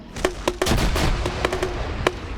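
Grenade launcher rounds burst repeatedly in the military shooter Arma, a loud, close barrage of sharp cracking explosions in quick irregular succession without speech.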